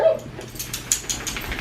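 A small dog in a Santa suit whimpers and lets out short yips indoors, several thin high cries close by.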